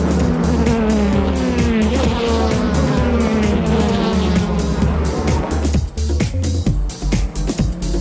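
Racing cars in the 2004 JGTC season opener, including GT500-class Zs, roar away from the rolling start as the safety car pulls in, a loud dense wall of engines passing close with rising revs before fading slightly.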